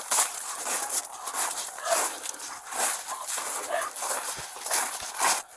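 A sheriff's office police canine barks and whimpers amid shuffling footsteps around abandoned buildings, close and restless, with shouting voices mixed in throughout.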